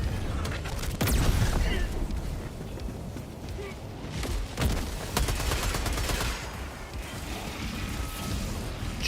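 Helldivers 2 gunfire rattles in dense overlapping bursts and booms, loud and close, with crashes and explosions mixed in and voices talking over the battle.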